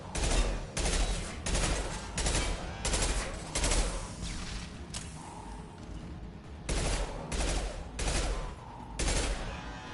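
Bursts of rapid gunfire in the video game Mass Effect 2, roughly a dozen sharp volleys in a steady rhythm with a brief lull in the middle, loud and close.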